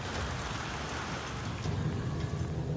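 Heavy rain pours steadily during a tornado storm in Sidrap, South Sulawesi, a faint, even hiss of falling water with a low rumble that thickens slightly toward the end.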